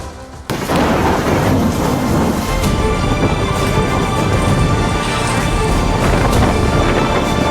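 Dense, continuous roar of a heavy thunderstorm as Cyclone Dana approaches, loud and wideband with rumbling booms and steady rain, starting abruptly and holding throughout without any voices.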